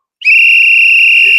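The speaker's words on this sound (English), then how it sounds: "We're gonna give him a big whistle" A single loud, steady whistle held for over a second, clear and close, alone without talk.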